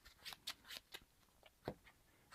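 Playing cards from a Marvel Champions deck being shuffled, a quiet series of short crisp riffling bursts spaced irregularly, close and soft with no talking.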